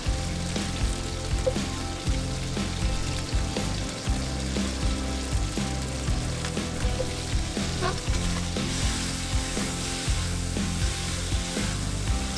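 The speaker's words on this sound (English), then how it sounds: "Stir-fry until the oil turns a rich red color, giving the dish a vibrant appearance." Chili powder stir-frying in hot oil in a pan for Kung Pao chicken, a steady close sizzle with scraping stir strokes running throughout, no voices.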